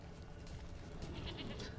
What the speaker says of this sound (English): hear a goat.